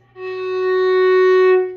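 A single sustained F sharp string note rings out clearly and steadily for over a second, then fades away, with no talking.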